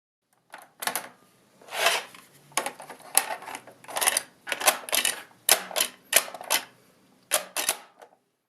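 A tape drive clacks and clicks in a series of sharp mechanical bursts as a tape is loaded into it, irregular snaps spaced over several seconds with quiet gaps between.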